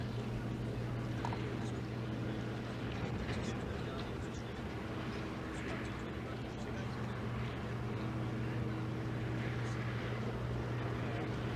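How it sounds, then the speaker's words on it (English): A Harrier jet engine runs on an outdoor test bed with its nozzles rotated upward, giving a steady, loud, continuous droning roar with a strong low hum that holds level throughout. "On this alternative outdoor test bed, the engine is started, and then the nozzles are rotated not downwards, but upwards"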